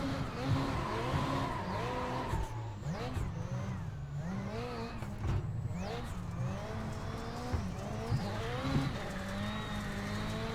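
Rallycross car in the racing game iRacing, engine revving hard through gear changes with wavering pitch while tires skid and scrabble for grip on loose surface, loud and continuous throughout.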